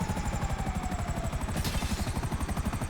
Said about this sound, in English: This helicopter's all like nice and soft, just lands real easy.